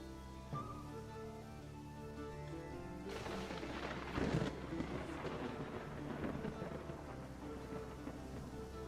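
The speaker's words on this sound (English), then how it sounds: "Lightning struck pretty close by." Thunder rumble and rain in a port-city building video game, a lightning strike nearby swelling into a heavy crackling roll over steady rain and a low ambient hum, fairly faint overall.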